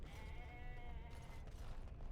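A goat in the video game Dragon Age: Origins bleats in a long, wavering cry, close and fairly loud over low background rumble, then a shorter call follows.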